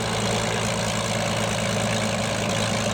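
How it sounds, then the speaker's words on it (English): P-40B Tomahawk engine in Microsoft Flight Simulator 2020, a steady low idling drone with a rough, throbbing pulse, close and loud and unchanging throughout. "it sounds like a bit like a Merlin engine"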